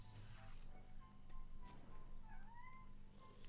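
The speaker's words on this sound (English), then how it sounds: "Oh, the cat's shouting at me." A house cat meows softly, with a couple of rising, drawn-out calls toward the end over faint room noise.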